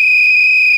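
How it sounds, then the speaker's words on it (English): A single loud, sustained blast on a shrill whistle at a Model United Nations event in Rome, holding a pure steady tone close to the microphone before cutting off abruptly. "I'm going to blow that whistle"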